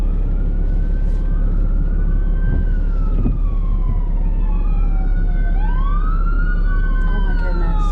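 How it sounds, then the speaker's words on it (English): Emergency vehicle sirens wail and yelp through traffic near a ski mountain, with several rising and falling tones overlapping. They sound loud and close over a steady low traffic rumble. "Here's sirens."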